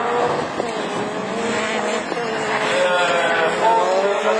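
Rallycross race cars at a French championship Division 4 start at Lavaré, a dense sustained roar of several engines revving hard together, loud and continuous with rising and falling pitch.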